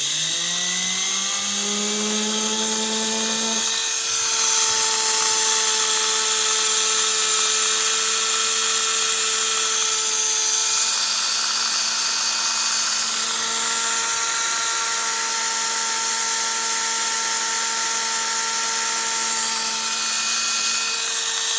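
A Pfaff 130 sewing machine motor runs steadily on its own, a loud continuous whine that rises in pitch as it spins up in the first few seconds, then holds an even hum with a bright, noisy edge.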